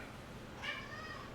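A house cat lets out a single short, clear meow in a quiet room, with faint background hum around it.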